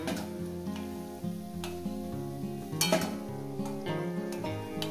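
Steady sizzling and bubbling of drumstick-flower fritters frying in hot oil, with occasional stirring clinks and scrapes, continuous and fairly close.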